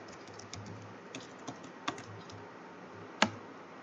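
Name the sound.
typing code on a computer keyboard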